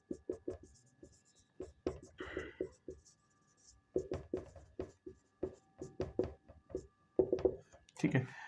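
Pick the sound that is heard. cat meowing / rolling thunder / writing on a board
writing on a board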